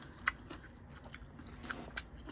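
Quiet chewing of beef shank, live octopus and seaweed soup, close to the mic, with a few soft crunchy bites at uneven intervals and no talk.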